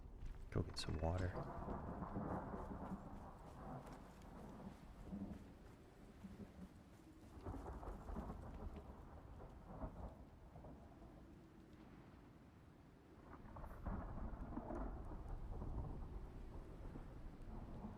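Thunderstorm in the survival video game Icarus, heard from a deck: low rolling rumbles and rain swelling and fading in waves at a quiet level, with a voice faintly present.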